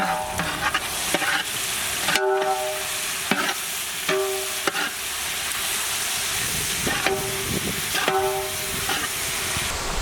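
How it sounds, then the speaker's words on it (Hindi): Onions frying in a pan while ginger garlic paste is stirred in, a steady broadband sizzle broken by repeated scraping stir strokes and a brief clank, close and continuous with no talking. "ऑनियंस थोड़ा सा पकते ही हम लोग इसमें जिंजर गार्लिक पेस्ट ऐड करेंगे।"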